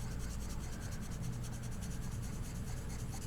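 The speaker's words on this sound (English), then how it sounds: "I'm going to shade with my pencil at an angle in small circles" Pencil held at an angle shading in small circles on paper during a white charcoal drawing practice, a close, continuous scratchy rubbing with a quick repeating circular rhythm and no talking.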